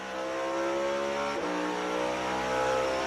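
A NASCAR race car accelerating hard along the wall, its engine a loud, steady, high-pitched roar that holds throughout with a slight pitch dip and recovery midway.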